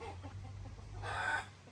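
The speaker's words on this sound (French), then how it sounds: "Ah, nous avons accès à des poules." Chickens cluck in a short burst at a Bali village home, moderately near, rising briefly over a steady low outdoor hum with no talking.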